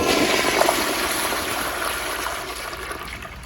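A 2004 American Standard 1.6-gallon toilet flushes ten golf balls: a strong, close rush of swirling water that slowly eases into a draining trickle as the tank refills.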